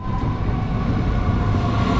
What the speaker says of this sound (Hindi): ट्रेन भी आ गई हाथ के हाथ ही